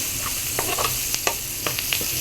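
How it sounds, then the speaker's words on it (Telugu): Onions frying with turmeric in a pan for egg puff filling, a steady close sizzle broken by scattered scraping taps of a spoon stirring, with no voice. "ఈ ఉల్లిపాయలు ఇలా వేగేటప్పుడు ఒక 1/2 స్పూను పసుపు వేసుకుంటున్నాను."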